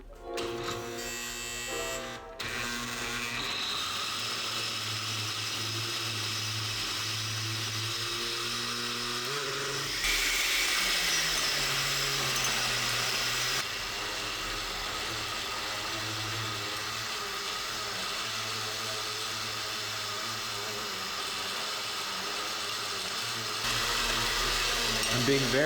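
Blender on a low setting grinding almonds into homemade almond butter, a steady loud motor whine that holds for the whole stretch, shifting pitch and load partway through as the nuts churn.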